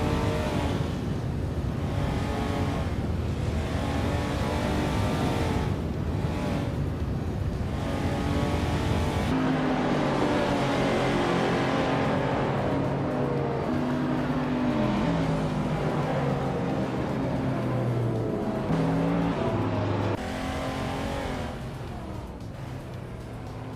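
Racing engines from a video game race featuring a 2004 BMW M5, a steady loud drone of engines with shifting pitch as cars rev and accelerate, continuous throughout with no talk.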